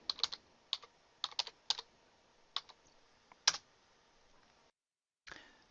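Quick, quiet keystrokes on a computer keyboard as a short table name is typed in Excel, in irregular clusters, then a short pause and one more click.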